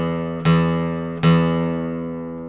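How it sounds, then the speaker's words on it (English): Guitar low E string tuned slightly sharp, plucked twice in succession, each note ringing clear and sustained with a slow natural decay, close and alone. "So the low E should sound like this."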